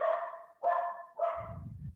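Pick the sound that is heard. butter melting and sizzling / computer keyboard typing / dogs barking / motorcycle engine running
dogs barking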